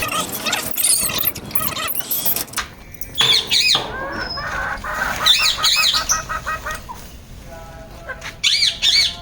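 Desi hens in their winter coop cluck and squawk in repeated bursts, some near and loud, with clattering mechanical noises between the calls and no clear speech.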